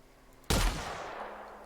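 A single loud gunshot from a gun in The Outer Worlds video game, a sharp crack after brief quiet, followed by a long ringing decay that fades away over the next second.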